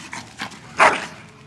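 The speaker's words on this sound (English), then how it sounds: "Bloody dog." Dog in the game Dragon Age: Origins giving a few short yips and whines that end in one louder bark, close and brief with no talking over it.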